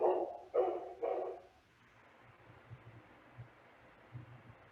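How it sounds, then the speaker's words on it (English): Dogs bark at gardeners working outside, three loud close barks in quick succession, then a quiet room with faint soft thumps and low hum. "It's Gardener Day at the Chief headquarters, so the dogs are very upset about gardeners being out there."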